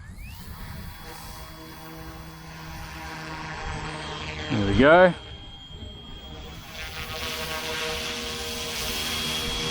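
An F07 UH-1D Huey RC helicopter with a brushless motor spins up for takeoff, a thin electric whine rising in pitch and growing louder beneath a voice, with a short rattling burst midway.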